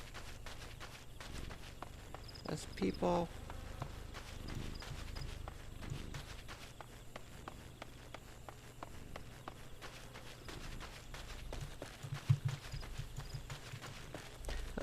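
Footsteps tramp steadily through a nighttime forest in the video game Final Fantasy XIV, a soft repeated rhythm over low ambience, with a brief spoken remark and a couple of louder thumps.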